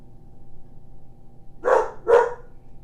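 A dog barks twice in quick succession, two short, moderately loud woofs standing out against a quiet indoor room.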